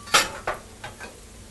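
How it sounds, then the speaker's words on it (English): A metal frying pan, just used to cook bacon for chili, knocks and clinks against a spatula as it is tilted to rest, three or four sharp close clanks fading quickly with no talk. "rest my pan on my spatula and let the oil drain down"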